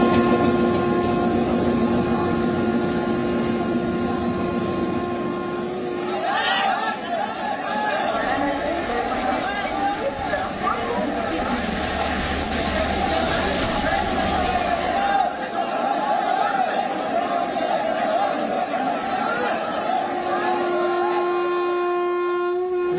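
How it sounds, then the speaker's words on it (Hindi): Crowded platform at Lokmanya Tilak Terminus during the Chhath Puja rush, with a Patna-bound train present: loud continuous rumble of the train and dense crowd chatter, a sustained horn-like tone running through, and talk throughout. "इस वक्त आप तस्वीरें देख रहे हैं लोकमान्य तिलक टर्मिनस से, जो पटना की तरफ जाने वाली ट्रेन है"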